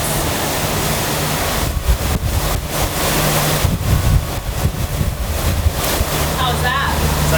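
Strong wind of around 30 knots roars across the microphone aboard a new sailboat at sea, a loud constant buffeting with surging gusts and water rushing along the hull.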